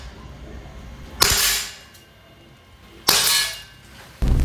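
Three sharp shots from a G&G MGCR 556 airsoft gas blowback rifle, each a crisp crack with a hissing gas tail, spaced about two seconds apart at close range.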